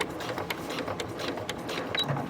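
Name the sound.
sewing machine stitching a cork Sophie Bag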